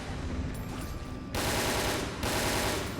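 Submachine gun fire in the video game Resident Evil: Dead Aim, two sustained bursts of rapid automatic shots that start abruptly after a quieter stretch, loud and close with no talking.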